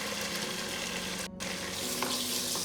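Eggs sizzle in hot oil with garlic and ginger in a pan for fried rice, a steady close frying hiss with stirring scrapes and no talking.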